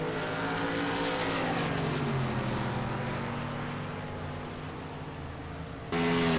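Race car engines at a Friday night feature race at New Hampshire, a loud continuous roar of several motors with shifting pitch, steady throughout and rising sharply at the very end.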